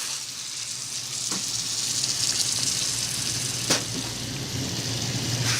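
Chopped tomatoes go into a pan of cooking onion and set off a steady, close sizzle and frying hiss. A few soft stirring clicks sound over it, and no one speaks.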